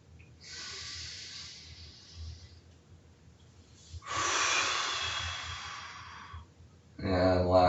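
Deep breaths in and out during a morning mobility stretching session, two long hissing exhalation-like breaths followed by a louder voiced rush of breath at the end, close and clear.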